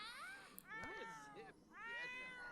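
A cat in the video game The Sims 4 meows several times, with rising and falling drawn-out cries close up and fairly quiet, mixed with a faint voice-like sound.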